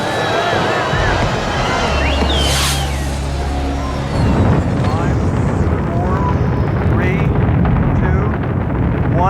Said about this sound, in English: Solid rocket ignition and liftoff. Liftoff of Columbia on a voyage to the future.